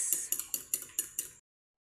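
Chopped pansit-pansitan leaves being mixed with other ingredients, giving six quick, evenly spaced clinks of a utensil against a bowl, close and fairly faint, then silence.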